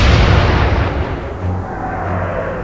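Warship guns in the naval game Atlantic Fleet fire a heavy, close boom that rolls off into a long, deep rumbling decay.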